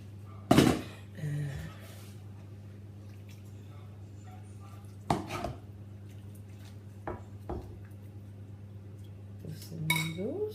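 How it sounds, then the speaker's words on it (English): Ladle and bowl clinking as noodle broth is served, a few sharp ceramic and metal knocks spaced apart with faint liquid pouring between them, close up in a quiet kitchen. "I'm gonna now spoon some of the broth into the bowl."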